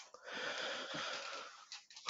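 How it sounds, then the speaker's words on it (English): Heavy, wheezing breaths of a sick person close to the microphone: a long, raspy airy exhale filling most of the moment, followed by shorter breathy gusts near the end, with no talking. "Makes me breathe very heavy."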